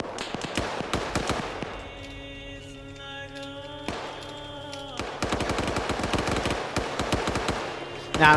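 Machine gun fire in the military shooter Arma 3: rapid bursts of sharp shots crackle at the start and again in a long sustained burst near the end, with a tonal lull and a single shot between.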